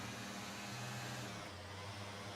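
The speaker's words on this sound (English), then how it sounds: "See that truck?" A truck engine in GTA FiveM roleplay drones faintly and steadily, its low hum shifting pitch partway through, with no voices over it.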